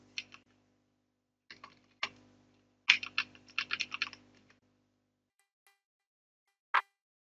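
Keystrokes on a computer keyboard as a command is entered in Windows 11: several scattered clicks, then a quick burst of close typing, one last isolated key tap after a pause.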